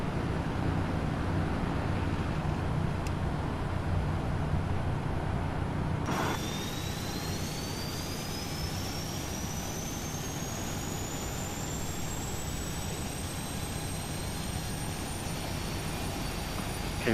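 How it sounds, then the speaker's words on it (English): Engine 1 of an airliner starting up in the Prepar3D flight simulator: a steady cabin hum broken midway by the turbine spooling up, its whine rising gradually and then holding as a loud, continuous drone. "starting engine 1"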